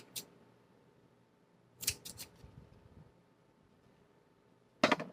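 Scissors snip through the ends of a yarn tassel in a few sharp, close cuts: a single snip, then a quick cluster of three, and a final snip after a pause, in a quiet room.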